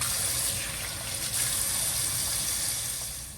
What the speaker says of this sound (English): wash the oxtail with white vinegar and lime